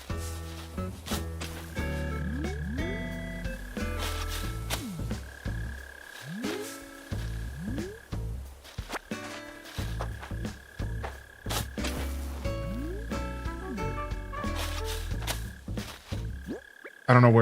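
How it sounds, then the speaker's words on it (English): Mole cricket chirping underground in the Animal Crossing video game, heard among a busy layered game soundscape of repeated croaking, frog-like calls and tones that continue steadily for the whole stretch. "What you're hearing right now is a mole cricket."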